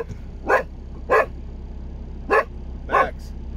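Max, a dog inside a truck cab, lets out four sharp barks, two close together, a pause, then two more, over a steady low engine hum.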